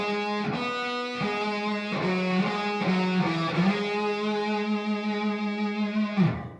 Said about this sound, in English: go down to the 7th fret on the A,